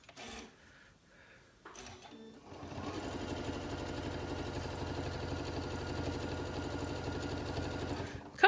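Close, steady whirring of a sewing machine stitching a quilt-as-you-go piece, starting after a few short bursts and running continuously for several seconds, ending with a sharp click.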